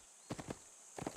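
Hoofbeats of a horse running in the video game Fallen Earth, two quick bursts of muffled clip-clop thuds separated by a short pause, faint under a steady high hiss.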